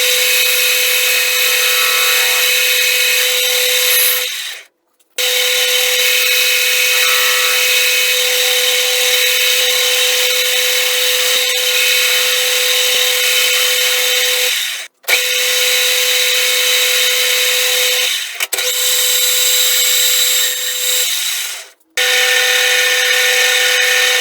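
A metal lathe with a motorized upper carriage turning and facing a welded part, a steady loud whirring hum with a fine cutting hiss, cutting out briefly several times as the machine stops and restarts.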